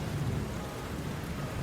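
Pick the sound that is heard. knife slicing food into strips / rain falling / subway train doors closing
rain falling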